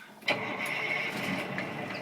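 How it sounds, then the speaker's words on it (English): A truck engine cranks and catches, then settles into a steady mid-pitched idle, heard fairly close but at modest volume with no talking. "Engine starts"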